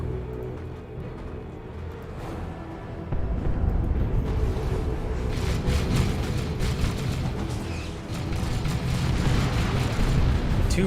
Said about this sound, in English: Two rocket launcher hits, very nice.